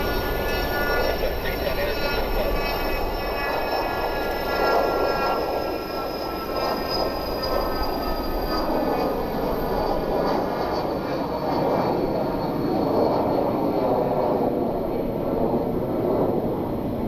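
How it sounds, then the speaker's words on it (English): A Hawker business jet taking off at an airport, a sustained, fairly loud jet roar with a faint high whine sliding across it, holding steady for the whole stretch with no clear talk. "So we got a Hawker, I believe, taking off here."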